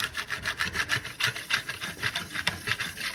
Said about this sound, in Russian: Можно уже приполировать, то есть с помощью кельмы, вот так, например, кельму держим